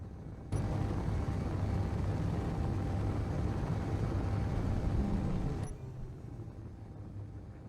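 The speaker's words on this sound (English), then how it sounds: "That's both our main thrusters straight, full power." Spaceship main thrusters firing at full power in Space Engineers, a loud steady broadband roar that starts abruptly, holds for about five seconds, then cuts to a quieter hum.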